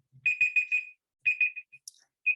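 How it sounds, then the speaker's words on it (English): A classroom timer from Canva goes off with a bright electronic alarm beeping in quick bursts of four, a pause, then more beeps, clear and close. "And there's the timer."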